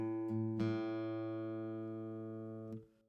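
An A note played at the fifth fret of the low E string on a guitar, heard close and plucked cleanly, ringing alone and decaying over about three seconds.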